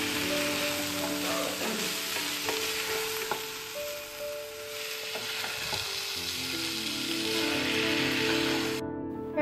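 Fried cauliflower is tossed in a hot pan over high heat for crispy gobi, giving a loud, continuous sizzle with bursts of stirring and clatter, close up and without talking.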